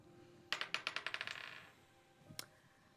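A quick clattering burst of small dice tumbling across a hard surface, about a dozen rapid bouncing clicks that slow and fade, then one more sharp click a moment later, close and fairly quiet.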